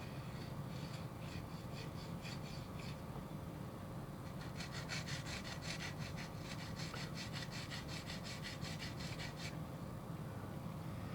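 A nano glass file rasping against a plastic model kit nub, quick rhythmic back-and-forth strokes in two bursts, close and fairly faint over a steady background hiss.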